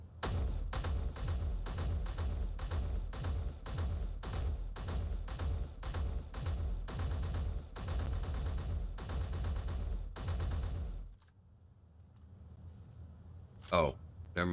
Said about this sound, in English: I'm just shooting the dummy.